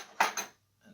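Vintage WWII U.S. Navy Oneida silverware handled up close: two quick metallic clinks of utensils knocking together, then a short silence and a faint rustle.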